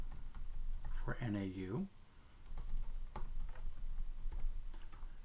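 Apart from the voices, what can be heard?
typing login credentials on a computer keyboard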